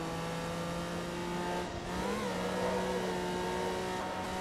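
Race car engine in Forza Motorsport 2 running near a very high rev limiter of almost 10,000 RPM, a steady loud mechanical drone with layered harmonics that surges in pitch midway, with faint tire noise.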